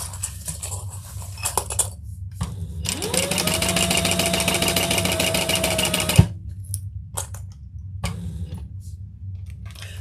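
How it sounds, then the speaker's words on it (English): Sewing machine basting the mesh side of a beach tote with a lengthened stitch, a steady whirring run of about three seconds that starts and stops abruptly, close and fairly loud amid quieter handling noise. "And I'm just going to baste them all the way around."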